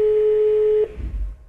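A mobile phone call tone, heard while calling contacts near the North Korea–China border, holds a single steady electronic pitch for under a second, then cuts off into low background rumble.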